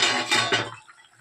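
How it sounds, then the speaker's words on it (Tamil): A metal lid lifted off a pan of chicken gravy, a short close clatter of cookware that rings briefly and then fades into quiet. "இப்போதான் தட்டை எடுத்து பார்த்துக்கலாம்."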